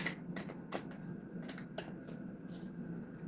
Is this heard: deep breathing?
no